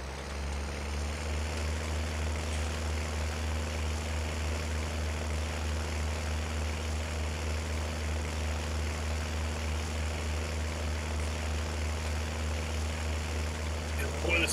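A tractor engine in Farming Simulator labors under heavy load with a steady, droning low rumble that holds constant and loud throughout, with no break or change in pitch.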